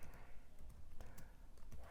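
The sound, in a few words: typing on a Chromebook keyboard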